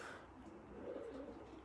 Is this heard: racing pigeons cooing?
yes